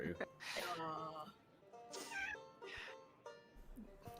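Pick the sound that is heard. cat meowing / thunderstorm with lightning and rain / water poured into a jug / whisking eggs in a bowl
cat meowing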